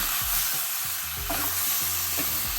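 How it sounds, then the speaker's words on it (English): Mutton pieces stirred and fried in a pan over high flame sizzle steadily, with soft scraping stirs from a utensil over the constant frying hiss. "Mix it. This is done on high flame"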